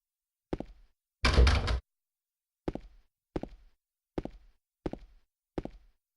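Locked doors being tried in Silent Hill 2, giving a series of short, dull handle rattles and thunks, one longer rattling burst early, then five more evenly spaced clunks against silence.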